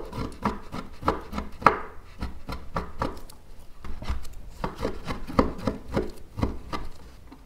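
A knife chops seedless dates into small pieces on a cutting board, making a quick, steady run of close, crisp taps for several seconds with no talking.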